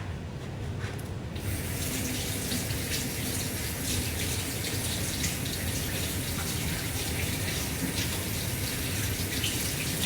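Water gushes steadily from a tap into a sink while a face mask is washed off, a loud, close, continuous rush that starts suddenly and runs unbroken to the end.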